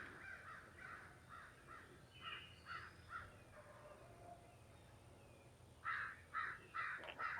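Angry crows caw harshly near their nest while mobbing a hawk: a run of scattered calls, then a louder, tighter burst of repeated caws close by, with no talking.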